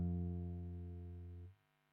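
Guitar low E string fretted at the first fret and plucked once, a single low note ringing and sustaining for about a second and a half before it is damped, quiet and alone.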